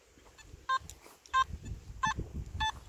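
Nokta Makro Simplex metal detector giving a jumpy target signal, short beeping tones that break up and repeat about four times, interleaved with scraping and handling noise from the coil sweeping over ground.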